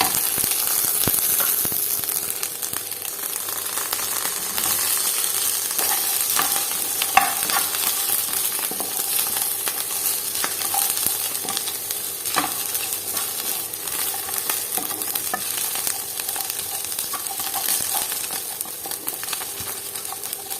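Fried paneer goes into a pan and is stirred, giving a continuous close sizzle with frequent light clinks and scrapes of a spoon against the pan at an uneven pace.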